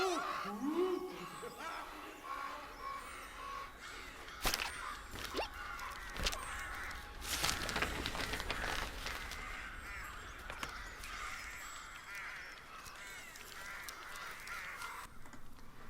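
Crows caw amid ambient game sound in the paper-craft video game Tearaway Unfolded, set on St Swithin's Moor, with repeated harsh calls and bursts of noise over a steady background.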